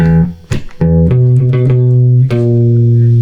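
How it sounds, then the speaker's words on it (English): Several plucked electric guitar notes on the open A string, picked a few times in quick succession, each ringing briefly before the next. "we're just gonna play that A string a couple times"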